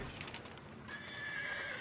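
A horse whinnies in the Europa Universalis 5 strategy game, a quick run of rising and falling neighs with faint clip-clop of hooves, fairly quiet and heard alone with no voices.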